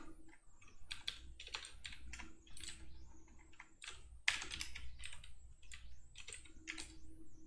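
Rapid bursts of typing on a computer keyboard, close and crisp clicking keystrokes in uneven runs with short pauses, no voice over it.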